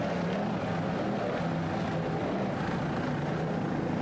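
Racing Fountain powerboat engine throttling, a steady loud roar with low harmonic drone and hiss, sustained throughout with slight surges, no talk.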